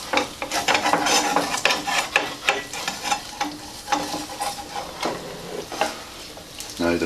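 An egg fries in a pan, its steady sizzle running under repeated scraping and clinking as a spatula works around the edge to loosen it, busy and close throughout.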